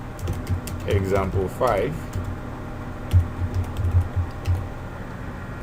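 Typing on a computer keyboard while writing Java code, a run of close, quick key clicks under a voice, with brief talk near the start.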